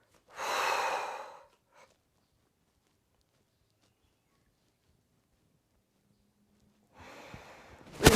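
Slow yoga breathing during a Forrest Yoga session: one long, audible breath near the start, then quiet, then another breath building at the end, close and soft with no talk.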